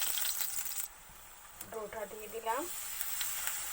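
Paratha dough fries in oil on a tawa with a steady, bright sizzle throughout, while a voice speaks briefly over it.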